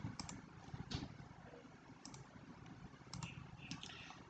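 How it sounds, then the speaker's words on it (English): Keys pressed on a computer keyboard, including the 0 key, giving a few faint, scattered clicks in small clusters, quiet and close, with no talking. "if I press 0 from the keyboard"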